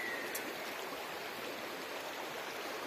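A river flowing below a hill in a forest, a steady broadband rush of water, continuous and moderately close with no voices.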